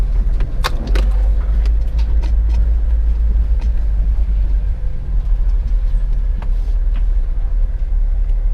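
Car engine straining steadily as it accelerates up a slippery stony track near an apiary, with a continuous low rumble and scattered crunching of loose stones under the tyres, no talk.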